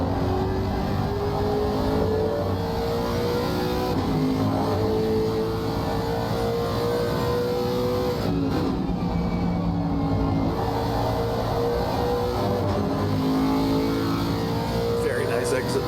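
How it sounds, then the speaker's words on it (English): A Lexus race car in a racing video game at Zolder, its engine droning and shifting in pitch, a steady loud roar beneath continuous commentary. "Now, how does the Lexus handle the chicane at turn 5?"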